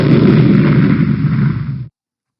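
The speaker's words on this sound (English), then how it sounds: "let's do explosion." A single explosion sound effect, a loud dense boom that sustains roughly two seconds with a rumbling low end before cutting off abruptly into silence.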